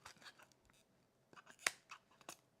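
Scissors snip paper for a scrapbook layout in a run of soft, close cuts, with one sharp louder snip in the middle, alone and without voices.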